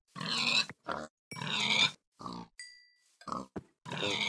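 Pigs in the video game Minecraft give several short, close grunts in separate bursts with brief pauses between them, plus a faint high tone near the middle, and nobody talks over them.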